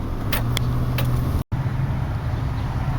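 Work truck crawling through stop-and-go rush hour traffic, a continuous low engine idle and road rumble from inside the cab, with a brief dropout partway and a few faint clicks.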